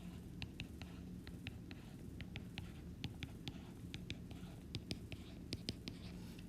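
A pen scratching quickly across paper as a diagram is drawn by hand, a faint, irregular run of short strokes and taps over a low background hum.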